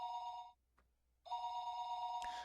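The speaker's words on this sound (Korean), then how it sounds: "하지만 이만큼 전화가 울리면 일어나지 않을까?" A telephone rings late at night in a visual novel: two loud electronic rings separated by a short silence, with a faint click in the gap.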